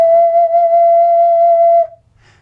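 One held note E from a 12-hole ocarina, a clean whistle-like tone sustained for nearly two seconds before fading out, played up close and solo.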